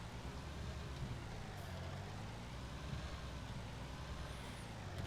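A Deutz-Fahr tractor engine in Farming Simulator 19 drones at a steady, even idle, a low continuous rumble with faint mechanical hiss and no real change in pitch.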